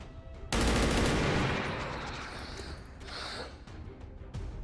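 Rapid burst of automatic gunfire in XCOM 2 with a Warhammer 40K Space Marine mod, a sudden loud onset then a decaying rattle with a later sharp crack, with a voice in the background.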